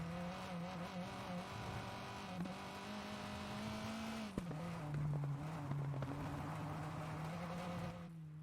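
Rally car engine in the WRC 9 video game holding a steady droning note, easing briefly around the middle before climbing again, loud and continuous with no talk over it.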